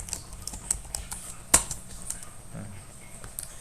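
A password being typed on a computer keyboard while configuring a router: a run of light, close key clicks at an irregular rhythm, with one sharper keystroke near the middle.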